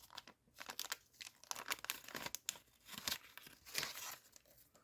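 A 1991 Puppetmaster 3 trading card pack, sealed with a sticker, being torn open up close: crisp ripping and crinkling of wrapper paper in quick irregular bursts over about five seconds.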